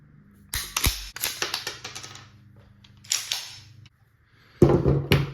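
A B&T KH9 firearm cycled by hand in a function test, sharp metallic clacks and clicks in separate bursts with pauses between, close and crisp, ending in a louder snap.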